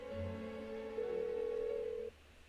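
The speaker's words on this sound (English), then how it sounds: "Why won't she pick up the phone?" A telephone rings unanswered in Persona 4 Golden, heard as a steady electronic tone held for about two seconds, slightly rising partway through, then stopping abruptly; no voices.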